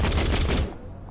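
A rapid burst of automatic gunfire in Saints Row 4, loud and close, lasting under a second before it cuts to quiet; no talk.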